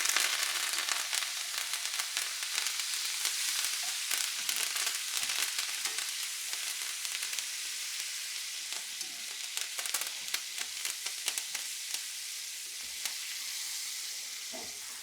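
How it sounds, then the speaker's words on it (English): Steak sizzling in a hot pan with fresh thyme, a loud, steady hiss of frying with scattered crackles and pops, close and continuous throughout. "I'm gonna throw the fresh thyme in there just to kind of pick up a little bit of the aromatics"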